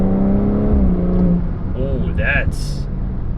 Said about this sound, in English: Very nice firm shifts out of Sport Plus.